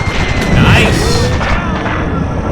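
Artillery shells land in a World War II battle in North Africa, a steady roar of crashing blasts and thumps layered over a noisy combat din, with a voice talking through part of it.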